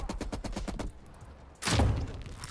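Rapid automatic gunfire in a first-person shooter video game, a loud close burst of shots followed by a brief lull and then a heavy booming blast, with no talking.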